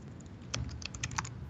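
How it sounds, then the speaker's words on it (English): Quick, uneven keystrokes on a computer keyboard tap close by over a low background rumble, with no voices. "you can start typing"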